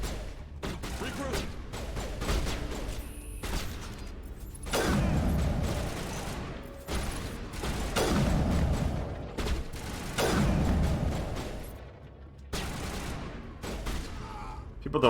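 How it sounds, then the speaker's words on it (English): Sniper rifle gunfire in the video game Mass Effect, heavy sharp shots in spaced bursts with booming tails and mechanical clatter, a voice talking in the gaps between them. "A very accurate sniper rifle."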